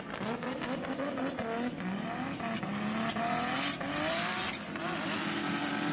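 A Nissan S14 drift car at the final round of the Borneo Star Drift Series, its engine wailing and rising while tires squeal and skid continuously, loud and sustained, with faint commentary underneath.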